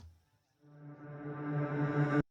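Reversed vocal riser built from a short sung snippet flipped backwards, rising out of near silence into a swelling, harmonically rich tone that grows louder and brighter over about two seconds before cutting off abruptly.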